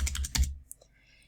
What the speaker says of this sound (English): All they do is they can start typing here.